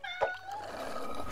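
A cat meows in a single drawn-out, wavering call, near and fairly clear, with a brief higher chirp at the end.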